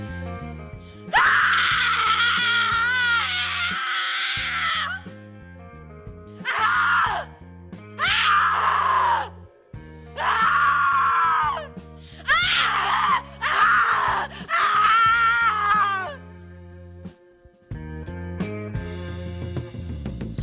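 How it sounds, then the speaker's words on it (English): Several drawn-out, wavering human screams of the psycho-horror sound-effect kind, loud and close, come in separate bursts of one to three seconds with short gaps, over a low sustained droning background and no speech. "If you go to freesound.org and search for Psycho Scream, these three sounds are among the first results."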